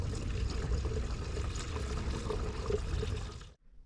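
Pink screen wash is poured into the washer reservoir of a Vauxhall Cavalier, a steady, close gurgling stream of liquid that stops abruptly near the end.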